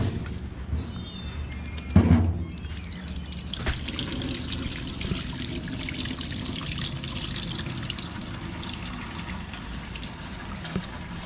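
Old liquid from a car battery is dumped into a 5-gallon bucket, a steady close trickling pour with a brief splashy surge near the start and a faint background hiss throughout.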